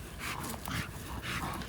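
An XL or standard bully dog whimpers and whines in short, high-pitched, breathy bursts, close by, with faint background noise and no talk.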